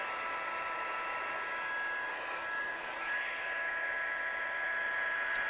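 A hair dryer blows a steady, loud, breathy roar with a faint whine as it dries a watercolour painting, running alone without speech.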